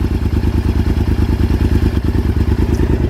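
A 2000 Honda VTR 1000 Super Hawk 996 V-twin idles steadily with its choke off, giving a loud, close, even lumpy throb that never changes pace and has no talk over it.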